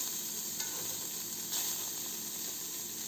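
Onions fry in a dry pan with no oil, giving a steady close hiss and sizzle with a couple of brief stirring scrapes.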